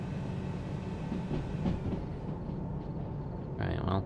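A train rolling on rails in the game Derail Valley: a steady low rumble with rhythmic wheel clatter, continuous and fairly loud, with a brief brighter screech near the end.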